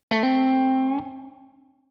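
Electric guitar with single-coil pickups sounds through an Eminence CV-75 speaker: a struck note, then a second attack that rings and decays cleanly over about a second, played alone.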